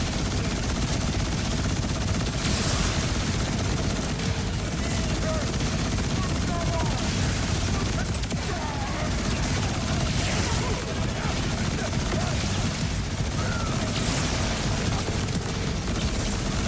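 Nonstop gunfire in the video game Borderlands 4, a dense, continuous barrage of rapid shots and blasts with no letup and a voice talking over it.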